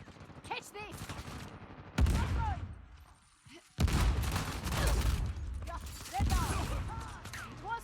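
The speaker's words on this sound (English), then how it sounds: "There's no way this machine gun's going to take me down" Bursts of automatic gunfire in an Uncharted multiplayer match, loud and close, arriving in two dense stretches with a brief lull between, while a voice is heard in the mix.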